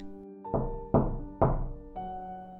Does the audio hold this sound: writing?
no